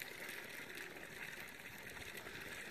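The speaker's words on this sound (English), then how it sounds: "spring bubbling will be kind of nice tonight, put us to sleep, like having your own bubbling brook" Spring water bubbling at a mountain campsite at night: a steady, soft, continuous gurgling wash, fairly faint and unbroken, with no voices.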